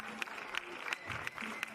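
Stadium crowd at an athletics meeting in Montgeron, France, clapping in a regular rhythmic beat, about three claps per second, with a commentator's voice faintly underneath.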